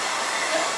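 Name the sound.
blow dryer drying paint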